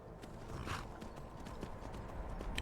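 A horse's hooves clip-clopping in the video game Skyrim, a soft, steady run of hoofbeats under a faint ambient bed, with a brief higher whinny-like call near the start.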